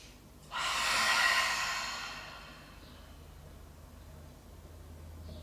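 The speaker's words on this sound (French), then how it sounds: "Vous pouvez lâcher par la respiration avec votre bouche si vous le souhaitez." A single long, breathy exhale through the mouth during a yoga session starts abruptly, swells, then tapers off over a couple of seconds before fading into quiet room noise.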